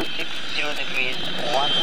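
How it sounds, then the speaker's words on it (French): An old Austrian Saab 105 jet flies past at an airshow, a steady loud engine roar with rising and falling whine across the pass. "Ça c'est un bon vieux Saab autrichien, si je ne fais pas erreur."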